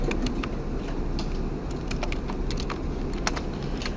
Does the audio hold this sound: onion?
no